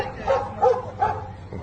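A dog gives three short, close barks or yips in quick succession, loud and clear with a faint murmur of background noise.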